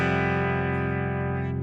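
A distorted electric guitar power chord on the low E and A strings rings out loud and sustained, a dense, steady drone without speech over it.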